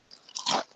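Chips crunched between the teeth in one short, close, loud burst of crisp snapping, building quickly and then fading.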